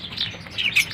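A caged lovebird gives short, bright chirps close by, a quick cluster of high tweets within a second, with no one talking.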